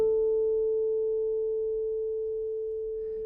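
A bass guitar harmonic rings as a pure, sustained tone that fades slowly over a few seconds, with a soft low buzz beneath it.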